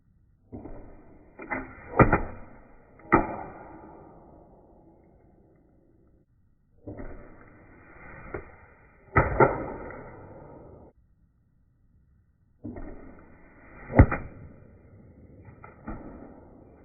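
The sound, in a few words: arrows flying after being shot from a bow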